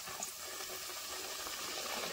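A roti fries in very hot oil with a soft, continuous sizzling hiss. The sound is quiet and steady throughout, with no speech.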